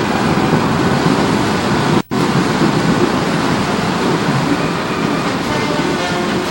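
Molten iron pours like a waterfall at the Hwanghae steel works, a loud, dense, continuous roar with one brief cut to silence partway through.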